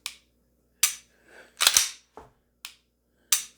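Sharp, dry clicks of an unloaded gun's trigger being pulled, about six separate snaps spaced irregularly and heard up close, with a faint shuffling handling sound between them.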